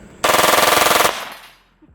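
A Czech-made Scorpion submachine gun fires one loud burst of rapid automatic shots at close range, lasting just under a second, and the sound then echoes and fades away.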